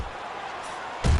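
A single heavy knockdown punch from a right hand lands in the boxing video game Fight Night Champion, a sharp loud thud cutting in near the end over steady crowd noise.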